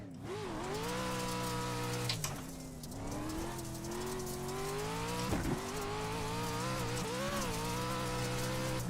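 Four-wheel drive race car in a sim racing game, engine harmonics climbing and falling through gear changes, loud and steady throughout with a couple of brief shifts or bumps.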